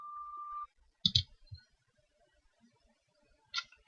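A couple of sharp computer mouse clicks sound close and dry, separated by silence, after a brief steady tone.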